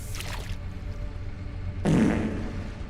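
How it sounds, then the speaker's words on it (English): A fart sound effect played during a game development stream, a sudden loud, low, wet burst that starts partway in and holds for about a second over a quiet background. "There's the fart."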